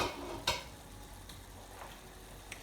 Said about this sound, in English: we're going to allow that to simmer for about 35 to 40 minutes